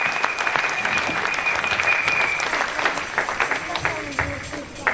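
Church congregation applauding and cheering to acclaim the Lord, steady loud clapping from a crowd filling the room throughout, with voices and shouts mixed in.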